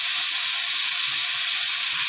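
Chicken frying in a pan until brown, cooked for pancit bihon guisado, gives a steady, dense sizzle and hiss close by that runs unbroken and evenly loud throughout, with no talking.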